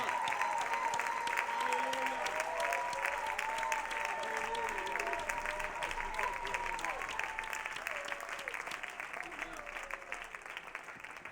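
A church conference audience applauds and cheers in a sustained, dense wave of clapping, with whoops and voices rising through it; the applause stays loud throughout and tapers only slightly toward the end.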